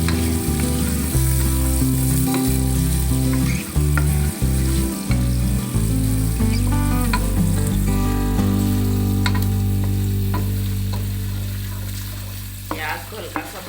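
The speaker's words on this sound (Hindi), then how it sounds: "प्याज को हल्का सा ब्राउन करना है।" Chopped onions fry in a pan to light brown, giving a continuous loud sizzle that runs throughout, with steady tones underneath that fade a little toward the end.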